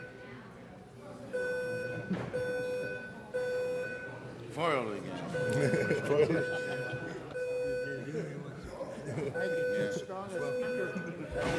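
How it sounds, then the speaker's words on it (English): A building alarm sounding during a city council meeting in a chamber, a repeating electronic beep pattern in bursts with short pauses, while people keep talking over it. "there seems to be an alarm going off"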